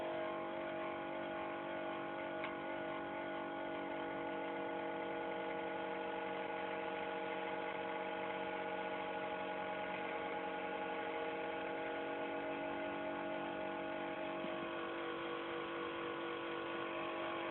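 A small generator wired between two batteries runs steadily and loud for the whole stretch, a constant motor hum with layered tones and no pauses.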